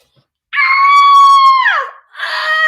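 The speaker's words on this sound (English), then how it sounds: "Let's scream together" A single person lets out a loud, sustained scream that rises then falls off after about a second, followed by a shorter second yell.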